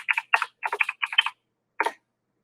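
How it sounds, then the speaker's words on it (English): Quick clusters of keystrokes on a computer keyboard, crisp and close, typed in four short rapid bursts followed by a pause and one final little flurry, with silence in between. "Sorry for my keyboard."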